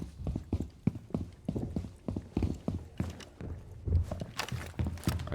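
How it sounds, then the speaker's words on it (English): Footsteps in a video game come as a steady, regular patter of close, thudding steps, then grow into a louder, busier clatter of movement toward the end, with no speech. "I hear a lot of footsteps up here"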